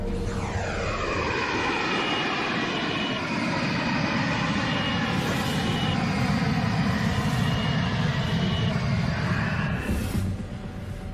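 Sonified early-universe sound: a continuous, loud, roaring drone with rising and falling tonal sweeps, steady for about eleven seconds without speech, like a haunting primal cry.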